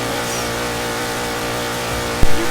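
A car engine revs steadily in the Driving Empire video game, with a sustained broadband engine drone and a brief sharp thump near the end.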